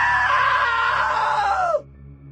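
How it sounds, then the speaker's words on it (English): A woman's long, loud scream in What Remains of Edith Finch, a sustained high shriek of close to two seconds that slides downward and cuts off abruptly, leaving a faint low hum. "Now that was a great scream."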